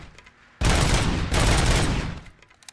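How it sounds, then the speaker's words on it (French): A machine gun in the game RoboCop Rogue City fires one long rapid burst, loud and close, that cuts off abruptly after about a second and a half. "C'est une mitrailleuse maintenant."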